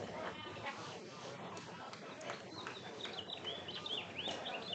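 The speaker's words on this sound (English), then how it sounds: "Birds are going crazy." Birds call around a baseball field, with scattered chirps and tweets that grow busier toward the end over a steady murmur of crowd ambience and occasional voices.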